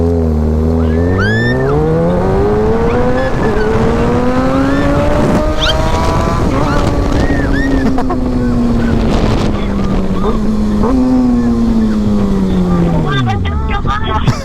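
A Kawasaki big bike is ridden with a passenger: loud engine whine rising and falling through gear shifts, over strong wind buffeting on the microphone, with people talking over it.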